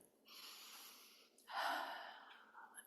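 A deep, slow breath taken during a guided Lemurian star-center meditation: a breathy inhale followed by a fuller, louder exhale, close and alone with no talking.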